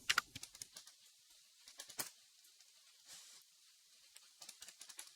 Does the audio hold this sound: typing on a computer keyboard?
yes